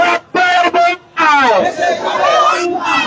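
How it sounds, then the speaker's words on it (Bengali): A protest crowd chants slogans in loud, rhythmic bursts of many voices shouting together, close and forceful, with short pauses between phrases. "দর্শক তারা বিভিন্ন স্লোগান দিচ্ছে এই মুহূর্তে।"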